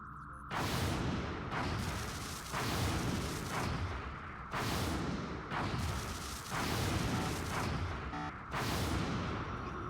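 Interceptor cannons in X-COM Long War fire at a UFO in repeated heavy bursts, five or six loud booming volleys about a second or two apart, each a dense roaring rattle, with no talk over them.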